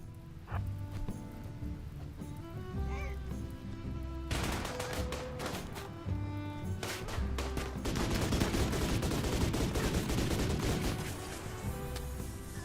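Gunfire rattles through a Rimworld battle, bursts of rapid shots crackling in dense volleys over a steady in-game music bed, building into a sustained fusillade toward the end.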